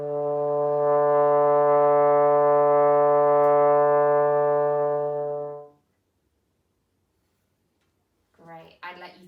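A trombone sustains a single steady D note for about five seconds, rich in harmonics, then stops; a voice briefly speaks afterward.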